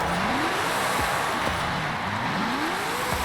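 A 1970 Pontiac Firebird Trans Am custom with an AWD drift tune pulls away in a video game, its engine rising through repeated upshifts in loud, steady sweeps, with no voices.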